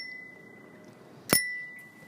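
A single sharp ding from the bell on an Amica folding bicycle made by Carnielli, ringing bright and close, then fading over a quiet room tone with a faint steady whine.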